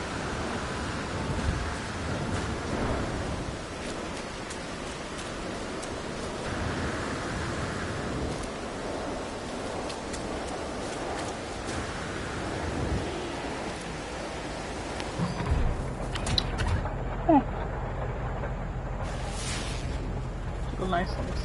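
A storm in the video game No Man's Sky gives a steady, dense rain-like hiss that fills the scene and swells toward the end, with a player talking over it.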